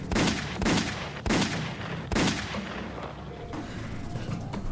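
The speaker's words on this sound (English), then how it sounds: "I fired all my shots out of my pistol." A pistol is fired repeatedly, with four loud, sharp bangs spaced about a second apart, each trailing into a rumbling decay over a dense, noisy background.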